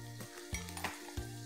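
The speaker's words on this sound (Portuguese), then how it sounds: "agora a panela já tá quente, a gente põe a cebola" Chopped onion sizzles in a hot pan for a sauté, giving a steady frying hiss with soft clinks as it is stirred.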